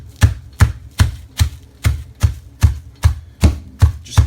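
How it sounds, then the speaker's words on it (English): Raw chicken being pounded flat with regular, evenly spaced thuds, about ten strikes in four seconds, close and fairly loud with no talking. "So just take it, just keep on beating it."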